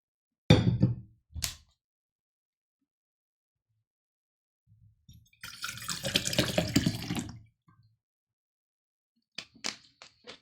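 Water runs from a tap for about two seconds to refill a drink, a short gushing burst set between a few sharp knocks and clunks in an otherwise quiet room.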